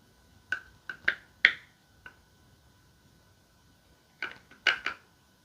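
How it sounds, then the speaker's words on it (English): Sharp little clicks and taps come from getting concealer out of its container, two brief clusters of crisp snaps separated by a quiet pause. "Trying to get the concealer out of the container. That's why you can hear that noise."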